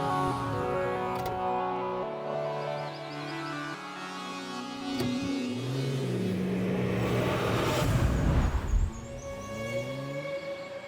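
A car engine turns over and revs, then the vehicle pulls away, a steady hum rising into louder acceleration before easing off.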